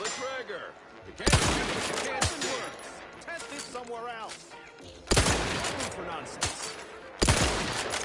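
Explosive rounds fired at a shooting range in The Outer Worlds 2, loud sharp bursts of gunfire in several volleys, with someone talking over the quieter gaps between shots.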